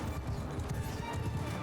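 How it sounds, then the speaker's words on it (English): Cavalry horses in Mount & Blade II: Bannerlord move along with a quick, uneven patter of hoofbeats that stays fairly soft and close throughout. "Horse archers, move you up over there."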